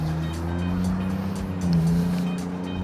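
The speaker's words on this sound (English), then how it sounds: "this is a very busy road. Lots of traffic going on" Traffic on a busy road, a steady low rumble of car engines and tyres with vehicles passing close by, continuous and moderately loud.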